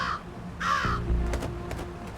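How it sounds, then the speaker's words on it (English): A rook from the video game Jenny LeClue gives two harsh caws close by, followed by low rumbling game ambience and a few soft clicks. "Oh, it's a rook."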